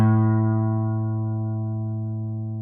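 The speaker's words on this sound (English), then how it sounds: "All right, now here's your A string." A single plucked guitar A string rings out as a reference for tuning, loud and clear at first and then fading slowly, with no other sound.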